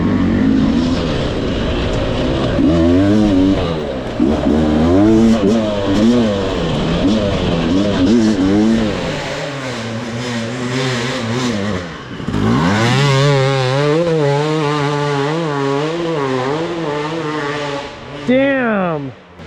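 An enduro dirt bike engine revs hard up a hill during the River Monster Hard Enduro race, loud and near, its pitch rising and falling repeatedly as the rider works the throttle.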